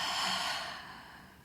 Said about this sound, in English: Remember to take a deep breath.